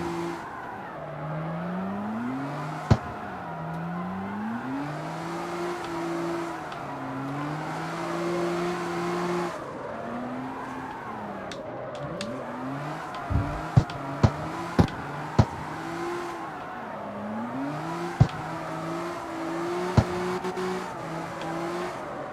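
A Mazda drifting in the street-racing video game CarX Street, with a steady engine drone that rises and falls in pitch and sliding tyre noise. Scattered sharp clicks cut through near the middle and end.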